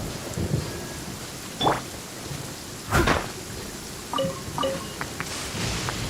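Steady rain falls during a thunderstorm in the video game Genshin Impact, with a few thunder cracks and scattered sharp taps over the constant wash. The whole scene carries no talking.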